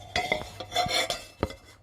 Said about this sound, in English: There's a bit of a stir.